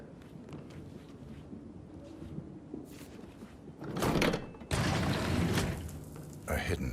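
A hidden door to a secret passage grinding open in the video game Hitman III, a low mechanical rumble and creak that swells loudly midway over a quiet background, with talking heard around it.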